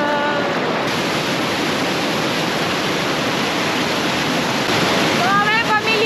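Steady rushing river water at the Tolantongo river, loud and close, a continuous broadband roar that fills the whole clip with no break.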